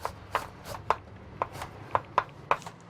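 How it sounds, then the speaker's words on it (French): A knife chops mushrooms on a board in quick, crisp taps, about eight evenly spaced strikes, close and fairly quiet with no talk. "Je vais hacher les champignons comme ça."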